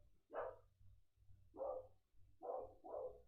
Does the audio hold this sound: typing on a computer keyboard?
no